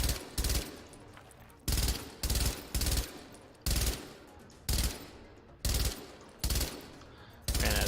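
Gunfire from the video game The Division: loud bursts of weapon fire in repeated volleys, roughly ten distinct bursts spaced through the stretch, each sharp onset followed by a decaying tail, no voices over them.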